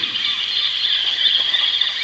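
Rats screaming and howling in a shrill, sustained squealing chorus that holds steady and loud throughout, a dramatized effect with no pauses or voices.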